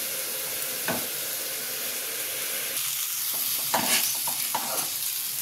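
Green chili masala curry simmers and sizzles in a pan with a steady, close frying hiss. A few soft clicks and stirring sounds break through near the end.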